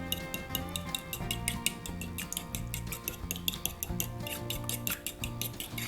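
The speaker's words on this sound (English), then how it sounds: "Now then I'm going to beat up my eggs." Six medium eggs are beaten in a bowl, a quick rhythmic clicking and tapping of a utensil against the dish, steady and close, over a faint background with musical tones.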